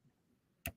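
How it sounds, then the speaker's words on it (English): Typing a phone number, with two quick crisp key taps close together near the end after a quiet stretch, faint and with no talking. "I don't know if I'm typing it well."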